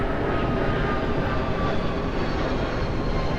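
An airplane passes overhead on a Sunday night in Miami, Florida, a steady, loud broadband engine roar that stays constant throughout.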